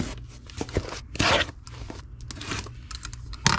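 A box being slit open with a razor blade, short scraping and tearing cuts through cardboard, close and fairly quiet, with one louder ripping stroke midway and a sharp snap near the end.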